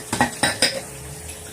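Dishes being washed: close, loud clinks and clatters of pots, plates and cutlery knocking together in a few quick separate bursts.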